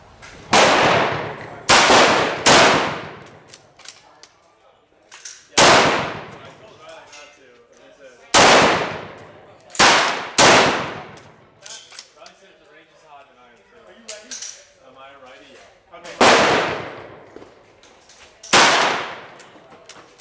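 A Mossberg MVP rifle chambered in .300 Blackout fires about ten loud, sharp shots at irregular intervals outdoors, each crack decaying quickly. Voices murmur faintly in the pauses between shots.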